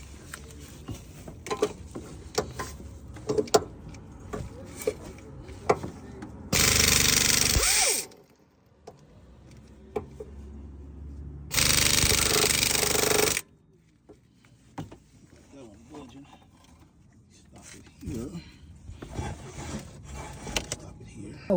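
An impact gun works bolts on a 2017 Nissan Sentra engine, two loud sustained bursts of rattling hammering a few seconds apart, surrounded by quieter clinks, taps and workshop handling sounds.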